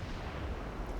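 Heavy low rumbling boom from a 12-inch naval gun firing in a naval warfare video game, a dense continuous roar filling the whole second at moderate level with no voices.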